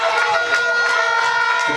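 A stadium crowd cheers continuously at a track race at Kim Collins Stadium in St. Kitts, with a dense, loud roar, shrill whistles and shouts, and an announcer's voice over it.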